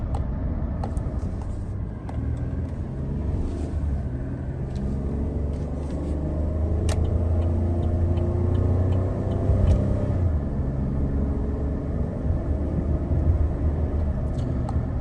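A car cruises along the road after its transmission was treated with Seafoam Transtune, giving a steady low engine and road rumble with faint clicks and small swells in tone, no talk.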